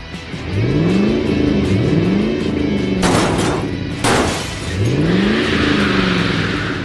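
Cartoon vehicle engines, a police car and a tow truck, revving and accelerating loudly past in repeated rising sweeps, with whooshing bursts between passes.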